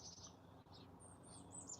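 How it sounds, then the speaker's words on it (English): Birds chirp and sing outdoors at sunrise, faint and somewhat distant, with short high tweets scattered over a quiet low background hum. "Do you hear the birds? Now they're singing."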